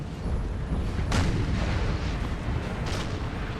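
Artillery fire in Napoleon Total War, two distant booming cannon shots spaced a couple of seconds apart over a steady rumbling battlefield background.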